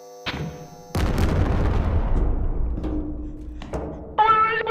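Explosion in the Animal Company VR video game, a sudden loud boom with a long rumbling decay, followed by brief game tones.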